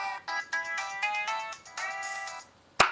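A cell phone plays a melodic ringtone, a sequence of bright electronic tones lasting about two and a half seconds. It ends abruptly with a sharp click, moderately loud and heard alone.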